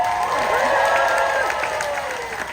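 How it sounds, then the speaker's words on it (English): Audience at a Renaissance faire show applauds steadily, a dense wash of clapping with some cheering voices mixed in, holding loud for a couple of seconds before easing slightly. "Esperanza, give her a hand!"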